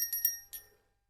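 Small bell rung in a home, three quick bright metallic rings close together, then a fourth after a pause, each ringing out briefly and fading into silence.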